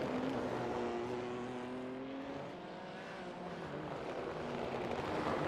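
A GT3 race car in the iRacing game snarls through a tight street circuit at Belle Isle, its engine note rising and falling under steady road roar, with a brief lull mid-run and no voices.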